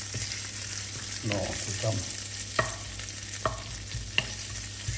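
Bacon frying in a pan, a steady close sizzle with occasional stirring scrapes and small pops, while someone speaks briefly over it.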